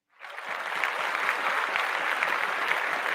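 A cued applause sound effect: a crowd of hands claps in a dense, steady burst that starts abruptly and carries on evenly without a break.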